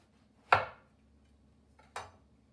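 An eggplant being sliced with a knife on a board, two separate sharp cutting thunks about a second and a half apart, fairly quiet with nothing else around.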